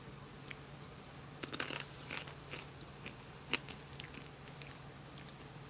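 Corn sticks from a 2020 US halal MRE with lamb jalfrezi crunched between the teeth, a few sharp close bites and chewing clicks scattered over a quiet room hum.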